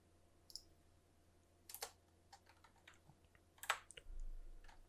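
Quiet keystrokes come in scattered bursts on a computer keyboard as a command is entered, soft clicks spread unevenly with short pauses between clusters.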